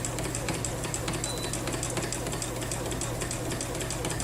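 A sewing machine runs steadily while stitching in the ditch on a quilt, producing a continuous, close, even mechanical whir with fine rapid needle chatter and no pauses.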